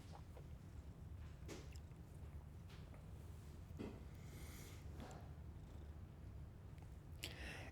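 A cat purrs softly as her head is rubbed, a low continuous rumble close by, with a few faint rustles and touches over it and no talking.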